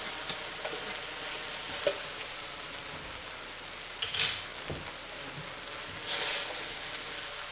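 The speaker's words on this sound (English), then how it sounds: "I'm just going to put that into our bean and olive oil mixture" Drained whole wheat pasta and greens tossed into a bean and olive oil mixture in a pan, with a low steady sizzle and scattered soft stirring scrapes and clinks throughout, fairly quiet and with no talking.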